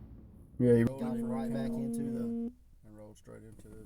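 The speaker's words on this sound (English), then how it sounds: "Sorry about that phone call." A steady telephone busy signal tone sounds for about two seconds from a phone call, following a brief loud burst, while someone talks over and after it.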